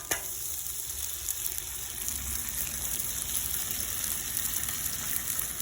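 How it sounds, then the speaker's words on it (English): Eggs cracked straight onto a hot Blackstone griddle next to steak that is almost done: a loud, continuous sizzle and crackle of frying close by, with no talk. "We're gonna crack these directly on the Blackstone."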